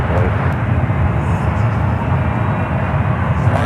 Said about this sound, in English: the 777-200 heading back to Denver